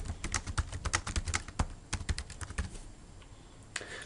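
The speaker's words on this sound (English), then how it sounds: "simply type directly into the object" Fingers type text on a computer keyboard in a fast, close clatter of keystrokes, thinning out to a pause and a few final taps.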